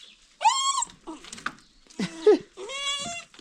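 A pet dog whimpers nearby in four separate high, whiny cries with short quiet gaps between them, some calls drawn out and wavering.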